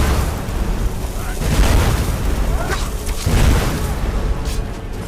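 Bomb blasts in the video game Skyrim: heavy booming, rumbling explosions layered into a continuous loud roar with a couple of stronger surges, under game noise.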